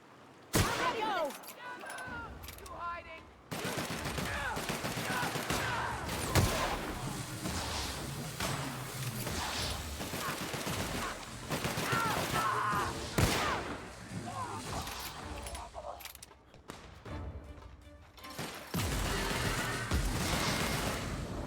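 Gunfire in The Outer Worlds video game comes in repeated loud bursts and volleys across a long stretch, with people talking over much of it.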